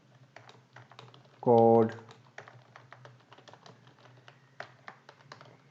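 Key clicks from a computer keyboard as code is typed in a Laravel 10 project, a steady scatter of light taps running throughout beneath a man's speech.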